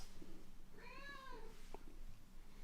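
A house cat gives a single clear, drawn-out meow in the middle of a quiet indoor room, fairly faint and nearby, with a brief small click just after and low background hum throughout.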